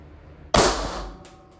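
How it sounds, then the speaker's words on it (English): A single sharp gunshot from a handmade 7mm pinfire cartridge fired into ballistics gel, loud and close, with a brief decaying tail and a faint second click near the end. "I'm going to try to fire a single shot into ballistics gel"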